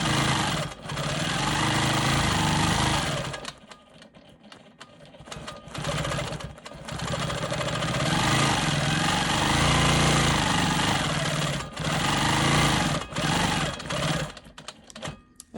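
A Quilt Maker Pro 20 quilting machine stitches smoky swirls into light gray fabric, running as a loud, steady rapid buzz in long bursts with brief pauses and speed changes in between.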